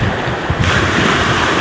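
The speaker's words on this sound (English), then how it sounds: "kind of sit in the waves a little bit, getting a little more rough" Rough surf breaks steadily along the Galveston shore, a loud, continuous wash of churning waves close by, with gusting wind buffeting the microphone and growing stronger partway through.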